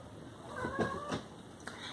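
A cat gives a couple of short, faint meows nearby, drawn-out and slightly wavering, over a quiet room with a soft background hum.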